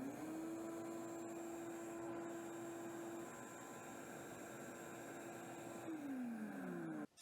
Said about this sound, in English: it's time to try the 5 horsepower shop vac